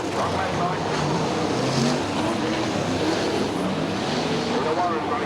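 Super sedan race cars roar around Charlton Raceway during a 2001 night Grand Prix, their engines a loud, continuous drone as a commentator talks over the noise.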